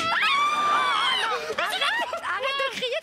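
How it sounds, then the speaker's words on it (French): A woman screams loudly and shrilly in a crowded, lively indoor setting, her high wavering cry dominating the opening second before excited overlapping voices and chatter take over. "Arrête de crier, tu me fais peur"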